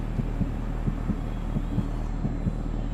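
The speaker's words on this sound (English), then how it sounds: "I forgot to use my heartbeat sensor or my heartbeat sound effects" A heartbeat sound effect plays during an NHL 23 stream, a steady lub-dub pulse repeating about every 0.7 seconds over a constant low hum, with no talking.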